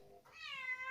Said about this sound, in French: Félix qui est en train de miauler